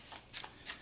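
A deck of playing cards is shuffled in three quick, soft riffling bursts. The sound is faint, crisp and close, in a quiet room with no talking.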